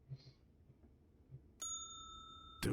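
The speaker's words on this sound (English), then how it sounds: "No hotel front desk is complete without a bell." A hotel front desk bell in the video game Slender Threads is struck once, ringing with a clear, sustained metallic tone over faint soft thumps, before a sudden louder noisy burst cuts in.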